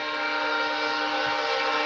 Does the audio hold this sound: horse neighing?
no